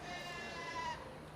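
Goats and sheep bleating at a school livestock show, a drawn-out wavering bleat close by over a murmuring crowd background.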